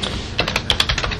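Someone types on a computer keyboard, a quick irregular run of crisp clicking keystrokes, close and fairly quiet, with no talk over it.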